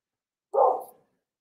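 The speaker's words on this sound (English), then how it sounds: "Second dog bark. He's out on the porch." A single dog bark from out on a porch, one short, fairly loud woof that stands alone with no talk around it.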